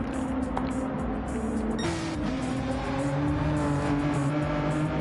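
A race car in a racing video game endurance race entering the pits, engine droning steadily at moderate volume with a shifting pitch, backed by continuous car noise and no talk.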